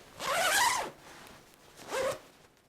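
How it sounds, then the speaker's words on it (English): Zipper on insulated puffy pants for mountaineering being pulled in one long rasping stroke, then a second shorter zip, close and clear with no talking. "Zip them halfway down."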